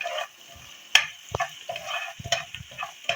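Kalonji (nigella seeds) frying and being stirred in a pan, a soft sizzle under scattered scraping and tapping of the spoon against the pan, close by and fairly quiet, with no talk.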